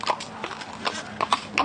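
Horse-drawn carriage at a driving competition for period or replica carriages, hooves clip-clopping in a brisk, uneven walking rhythm nearby, with a voice faintly present in the background.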